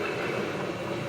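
A train rolls past close by in a steady, unbroken rumble, with wheel and rail noise holding at full loudness right up to its last car.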